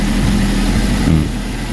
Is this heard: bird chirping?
no